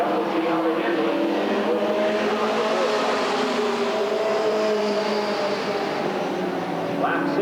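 Race cars circle an oval track at Redwood Acres Raceway in 1989, their engines blending into a loud, continuous drone that holds steady for the whole stretch with no break.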